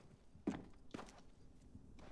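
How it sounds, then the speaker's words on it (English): Footsteps in a professional CS:GO match on Dust2 near mid doors, a few soft, low thuds spaced about half a second apart, quiet and slightly muffled with no talk over them. "Footsteps being heard now towards mid doors from Cello."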